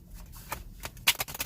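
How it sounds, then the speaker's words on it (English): Tarot cards shuffled by hand, a quick run of crisp riffling flicks building to a louder burst of snaps near the end, close and clear with no talking. "I'm just going to shuffle twice"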